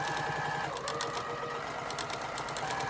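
Sewing machine stitching small fabric scraps together in crumb piecing, a steady, continuous mechanical whir with a fast, even needle rhythm and no talking.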